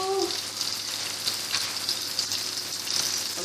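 Steady crackling sizzle of shallots and tomatoes frying in a pan as basil goes in, with a brief voice at the very start.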